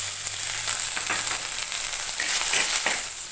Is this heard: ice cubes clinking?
no